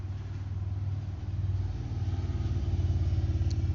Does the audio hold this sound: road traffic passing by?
yes